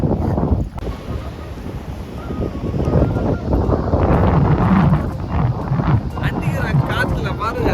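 Strong wind at a beach buffeting the microphone, a loud continuous rumbling roar with gusts rising and falling throughout.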